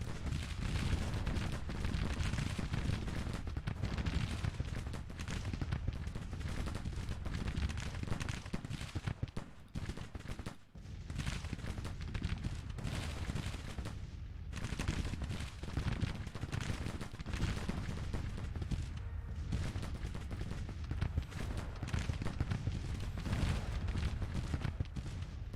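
Mississippi rifles crackle in dense, sustained volleys throughout a Grand Tactician Civil War battle, with rolling musketry and distant cannon-like booms forming a loud, continuous din with only brief lulls.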